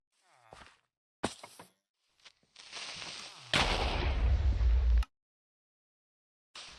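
A Minecraft creeper explodes. Several bursts come and go, then a loud, rumbling blast of about one and a half seconds cuts off abruptly, followed by silence.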